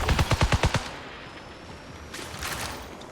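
Video game gunfire, a rapid burst of about seven loud shots in quick rhythm, followed by a quieter whooshing tail and a softer hiss of effects.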